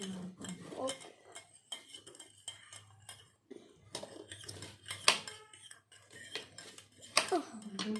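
A knife cuts fruit on a board at home while a virgin mojito is made, giving irregular close taps, clicks and clinks with quiet pauses between them and faint talk in places.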